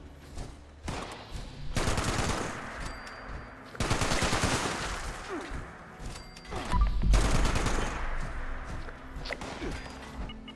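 Automatic gunfire rattles in long bursts at the player in Fallout 76, loud fusillades separated by short gaps, with a few sharper impacts mixed in.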